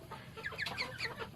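Chickens in a pen clucking and squawking in quick overlapping calls, close and fairly loud with a faint background hum, no talk.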